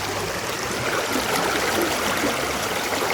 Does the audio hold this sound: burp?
no